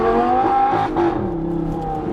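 An Audi R8 accelerating on a road in Washington, with a loud, close engine drone whose pitch climbs steadily across about two seconds, running alone without talk.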